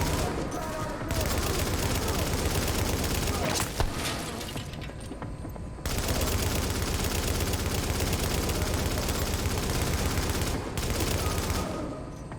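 Sustained turret gunfire in The Division video game pounds in long loud bursts, broken by a brief lull, with dense rapid shots and impacts layered over game noise.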